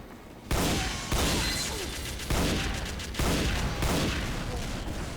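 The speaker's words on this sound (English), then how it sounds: "sniping with this rifle." Sniper rifle fire in the video game Team Fortress 2 Classic, four sharp close shots spaced about a second apart, each followed by a brief decaying tail.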